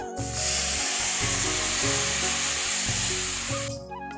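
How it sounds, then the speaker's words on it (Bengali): Milk pours into a pan of lightly fried vermicelli (semai), giving a steady, close hissing sizzle with faint scraping and clinking that tapers off near the end. "এই দেখো হালকা সামাইকে ভেজে নিয়েছি এবার দুধ দিয়ে দিচ্ছি আমি"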